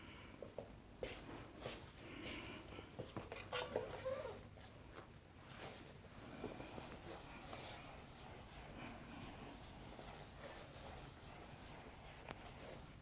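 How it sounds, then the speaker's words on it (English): A board is wiped with an eraser in steady rubbing strokes, loud and close, with scattered taps early on and a dense continuous swish through the second half, no talking. "I will erase this part."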